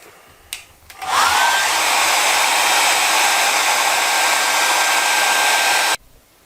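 A hair dryer drying a watercolour painting, switching on with a click and rising to a loud, steady close-up whoosh with a thin whine, blowing continuously for about five seconds before cutting off sharply.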